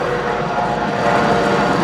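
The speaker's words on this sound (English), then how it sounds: "Excuse the noisy helicopter." A noisy helicopter flies overhead with a steady, dense rumbling drone that stays loud throughout and rises slightly toward the end.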